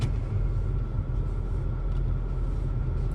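A Dodge Hellcat rumbles past on a road in the Lake Lure and Chimney Rock area, its deep, steady engine drone filling the scene with no voices over it.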